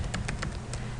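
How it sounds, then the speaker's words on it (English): Keys clack on a computer keyboard while parameter names are entered for a parametric shape box toy, with a handful of quick close taps in an uneven rhythm over steady background hiss. "then I'm going to type peg underline height, and I'm going to type 2"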